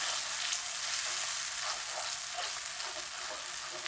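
Yogurt and spices fry and are stirred for kaleji masala, giving a loud, dense, continuous sizzle close up with faint scraping from the spoon.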